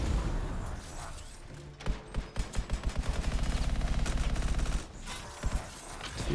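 Rapid automatic gunfire in the video game Anthem, a long run of sharp evenly spaced shots lasting about three seconds, loud and close over a droning game background, with a couple of stray shots afterwards.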